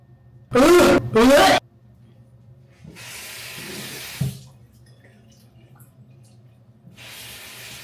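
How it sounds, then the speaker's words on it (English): Tap water runs into a bottle in two short bursts of steady rushing hiss, the second trailing off into quiet room tone, after a brief loud squeal near the start. "We just filled this up with water."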